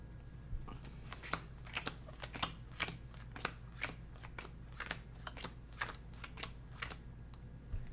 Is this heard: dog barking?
no